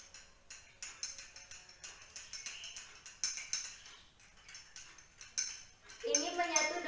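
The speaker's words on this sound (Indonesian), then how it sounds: "Nih, kita aduk." A spoon clinking against a glass as salt is stirred into water, giving repeated light taps and scrapes at an irregular rhythm, ending in a brighter flurry of clinks.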